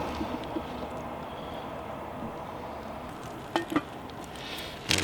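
Sausages sizzle in a greased pan at a seaside fishing spot by the Teign estuary, a steady low crackle with a few brief clinks and scrapes near the end.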